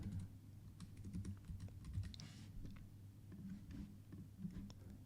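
Light, rapid keystrokes patter on a computer keyboard, close and faint, in a steady run with no talking.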